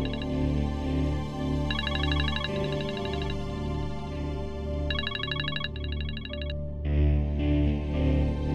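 A mobile phone rings out on a call back, a repeating electronic ringtone in bursts over a steady hum. The ringing is close and fairly loud and stops near the end, and no one speaks.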